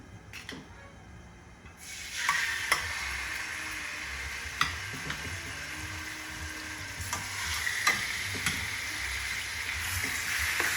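Pork chops sizzle in a couple tablespoons of regular olive oil in a hot pan, with a steady, loud frying hiss and occasional pops and crackles once the meat goes in.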